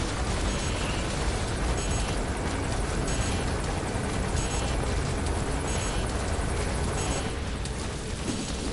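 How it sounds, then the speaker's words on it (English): A helicopter approaching in Metal Gear Solid V, a dense, steady rotor roar filling the whole clip, loud and close with constant thumping texture and no talking. "The chopper will be able to get in close now."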